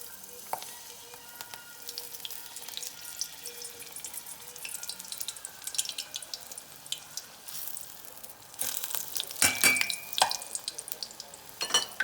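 Sorrel leaves for tempura dropped into hot oil, giving a soft, steady sizzle and crackle that swells louder toward the end, with faint kitchen clatter.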